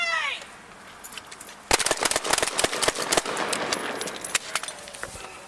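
Rapid volley of police gunshots fired during a fatal shooting in Phoenix, loud sharp cracks in an irregular burst after a shouted warning, with a brief voice at the start.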